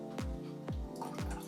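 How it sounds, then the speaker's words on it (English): Liquid poured into a seitan wheat-gluten dough mixture gives three close, evenly spaced glugging drops that fall quickly in pitch. "Add the liquid."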